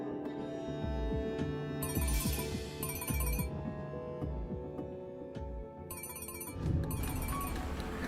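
A telephone rings in repeated electronic bursts, a pair of rings early and another pair later, fairly quiet and set against a steady musical score with soft low thumps.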